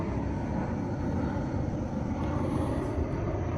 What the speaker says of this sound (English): There's a plane in the sky.